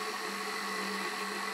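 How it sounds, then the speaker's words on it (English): A stand mixer with a dough hook attachment runs steadily as it combines pizza dough ingredients, giving a continuous whirring motor hum at a low level with no talking. "I'm going to be using my dough attachment, my dough hook attachment. And I'm just going to give it a little bit of a mix here just to combine everything."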